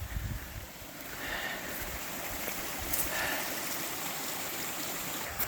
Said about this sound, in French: Une autre belle source qui passe en dessous du chemin.